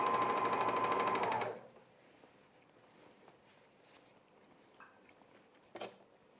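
A sewing machine stitching men's underwear whirs loudly for a brief burst, then stops, leaving quiet room tone with a few faint handling clicks and a soft knock near the end.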